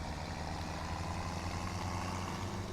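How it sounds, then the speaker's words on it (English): A tractor engine idles steadily in Farming Simulator 17, a low, continuous rumble with a constant hum and no noticeable changes in pitch or rhythm. "So we'll get this tractor."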